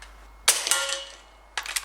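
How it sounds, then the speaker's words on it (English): A John Bowkett Super 10 air rifle tuned to about 15 foot-pounds fires over a chronograph, giving a sharp crack and a brief mechanical clatter, then a second crisp burst of clicks shortly after. "Now for some shots over the chronograph"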